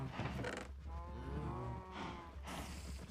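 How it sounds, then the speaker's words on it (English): Cows in the Minecraft video game moo in a few drawn-out, nasal calls, one after another, over a steady low background hum. "these cows are annoying"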